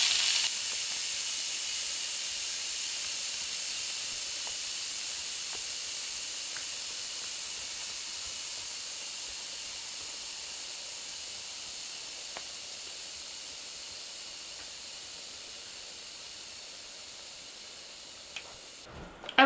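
A pressure cooker vents steam in one long, steady hiss that slowly tapers in strength, with a brief clatter at the very end.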